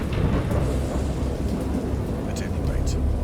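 Thunder rumbling through a great storm in the horror game Dagon, a continuous low roar with rain-like hiss and brief crackles, loud and steady throughout, with a voice speaking over it.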